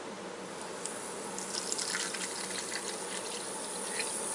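Water pours steadily from a tap into a measuring cup for cooking rice, a continuous close gushing and splashing with a faint rising fill tone, no voices.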